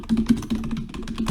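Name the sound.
typing on a computer keyboard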